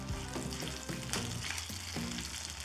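Curry leaves and green chilli pieces hit hot oil with urad dal for sundal, sending up a busy sizzle with some scraping and stirring taps. No one speaks.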